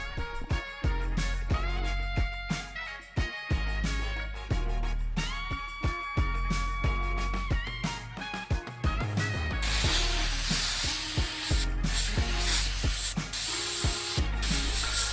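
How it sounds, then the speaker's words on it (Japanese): Spray can of surfacer primer hissing steadily onto a disassembled Patlabor reactive armor plastic model kit, a continuous close spray that takes over from a busy backdrop of music-like tones. "まずある程度ばらしてサーフェーサーを吹きます。"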